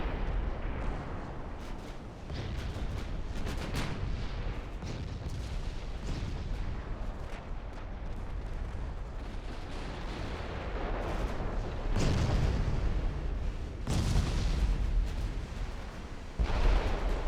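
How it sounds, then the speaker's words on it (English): Big naval guns on a battleship fire in Ultimate Admirals: Dreadnoughts, a steady rumble of distant gunfire broken by several heavy, booming salvos near the end. "I need the big guns to actually score some penetrating hits on the main belt if I want to sink her"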